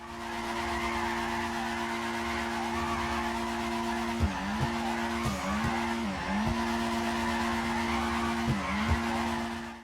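A car drifting in GTA 5, its engine droning steadily while the tires squeal in a sustained skid, with repeated dips and wavering pitch as the slide shifts, loud and close throughout.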